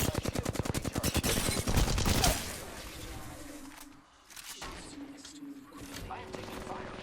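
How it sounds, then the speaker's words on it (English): Incoming automatic gunfire in Apex Legends, a loud rapid stream of shots for about two seconds followed by scattered quieter shots and game noise. "I am taking fire, friends. You hear that?"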